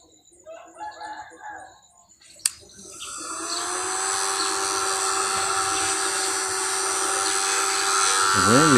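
A small electric motor powers a homemade alchemical furnace. After some quiet scattered sounds and a sharp click, it spins up into a steady high-pitched whine that speeds up slightly near the end.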